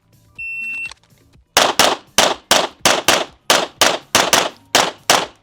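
Pistol gunfire on a USPSA practice stage, a shot timer beep followed by about eleven sharp, loud shots fired in quick bursts and pairs, close to the shooter.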